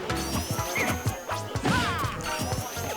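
Rapid smash-attack hits and crashes in Super Smash Bros. for Wii U during a Sonic versus Diddy Kong tournament match, busy thuds and whacks layered over game music and effects.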